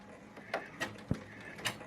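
A Brother embroidery machine on a jumbo hoop stitching underlay gives soft mechanical whirs and clicks, four or five separate short pulses at an irregular rhythm, close and fairly quiet, with no talk.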